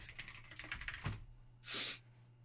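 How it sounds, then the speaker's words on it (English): Rapid keystrokes on a computer keyboard clatter close by in a dense burst for about a second, followed by a quiet pause and one louder, broader clack or thump. "All right, typing away"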